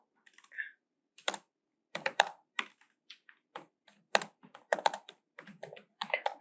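Irregular bursts of clicking keys on a computer keyboard as a ChatGPT prompt is typed, close and crisp, with short pauses between runs of keystrokes and no talking.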